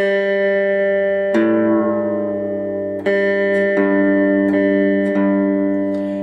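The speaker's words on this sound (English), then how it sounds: "I play the A and I tune it down until it sounds in tune with that" Guitar notes are plucked and left ringing, several times, with the pitch of one string shifting slightly between plucks as it is tuned down to match the A string.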